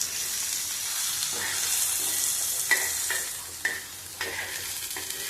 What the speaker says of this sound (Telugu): సో అలా బాగా ఫ్రై చేసుకోండి.